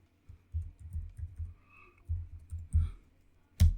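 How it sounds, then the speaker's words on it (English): Quick bursts of clicking keystrokes on a computer keyboard as a sudo password is entered while setting up Docker on CentOS 8, close and fairly loud, in uneven clusters ending with a sharper final key press, with no talking. "Type in my sudo password and should be good to go"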